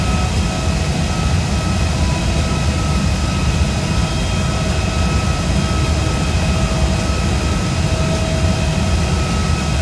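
A simulated airliner lands during a Jeju to Gimpo flight in a flight simulator, its jet engines giving a steady, loud broadband roar with a low rumble and faint whining tones throughout, no voices over it.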